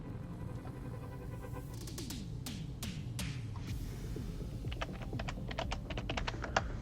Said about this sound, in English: Let me try typing in Tumbling.